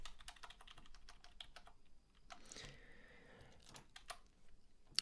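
Rapid typing of code on a computer keyboard, close and steady, with quick bursts of key clicks, a brief pause and then more clattering keystrokes.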